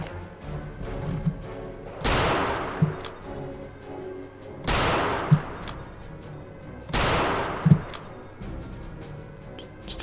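Gunfire in the video game Return to Castle Wolfenstein: three loud, sharp bursts about two and a half seconds apart, each trailing off in a fading rumble, with no talk over them.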